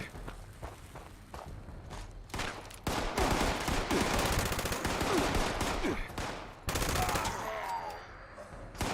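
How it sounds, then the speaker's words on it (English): Bursts of rapid automatic gunfire from a gun in Fallout 76, loud dense volleys broken by short pauses, with footsteps and a voice talking between shots. "I do like this gun."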